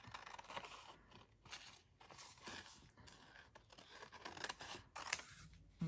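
Scissors snip through paper cut out as collage tabs for a journal, a run of close, crisp crunching cuts with short pauses between strokes.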